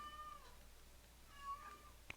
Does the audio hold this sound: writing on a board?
no